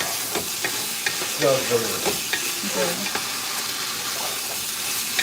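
Meat browns and sizzles in a pot on the stove while a wooden spoon scrapes and stirs it in repeated strokes, with steady frying crackle underneath and a brief spoken comment.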